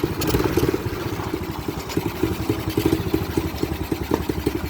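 A 125cc ATV engine idles after a carburetor repair, a close, steady clattering putter of rapid even pulses that runs for several seconds with no talking over it.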